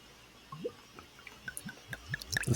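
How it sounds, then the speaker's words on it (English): Red wine is swirled and sipped in a glass, making small wet slurps and liquid movements that come in short, close, quiet bursts, growing denser toward the end. "I'm gonna have to like give a little shake and a swig before I really try it"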